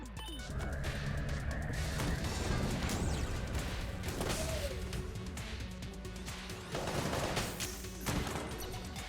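Glass shattering under gunfire in the video game Enter the Gungeon, with several sharp crashes and bursts of shots over busy game music and effects, loud and continuous.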